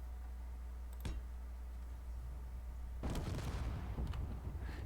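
A rover dropped on its head in the Space Engineers video game smashes down with a sharp crunching impact followed by a burst of clattering, grinding crashes. A brief knock comes first, over a steady low rumble.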